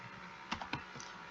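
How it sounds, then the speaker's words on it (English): A few quick, soft clicks of keys on a computer keyboard, ending in a firmer keypress, close but quiet over faint background hiss. "then I press enter on my keyboard"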